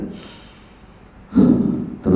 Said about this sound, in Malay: turun naik nafas kita ni